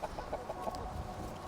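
Chickens cluck in a quick run of soft, repeated calls near a farmyard flock, a few evenly spaced clucks at the start fading into a low, steady background murmur.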